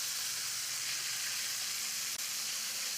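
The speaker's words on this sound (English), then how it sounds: "As soon as your butter is melted and bubbly, I want you to put in your dumplings." Parsley dumplings fry in melted, bubbly butter with a steady, even sizzle that continues throughout, close and fairly loud, with no voices.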